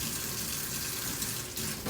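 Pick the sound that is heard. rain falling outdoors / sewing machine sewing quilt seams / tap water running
tap water running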